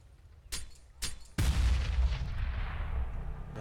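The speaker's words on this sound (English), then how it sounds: "Damage done by the nade as Doge has already tucked his way into the corner" A grenade blows up in CS:GO during a pro match at the PGL Major 2017 in Kraków. Two short sharp cracks come first, then a loud, close boom that rumbles and fades slowly.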